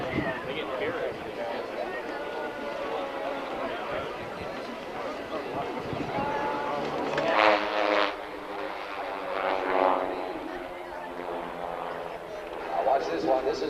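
Aerobatic display planes trailing smoke at the 1992 California International Airshow in Salinas drone overhead, a propeller engine hum rising and fading in waves beneath a commentator's ongoing talk.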